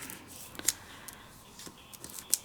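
Scissors snip through a paper stamp piece close up, giving a few quiet, crisp cuts spaced irregularly in a quiet room.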